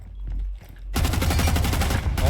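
Rapid gunfire bursts up close during a Rainbow Six Siege match as shots punch through a wall, loud and dense after a quieter opening, with faint game ambience underneath.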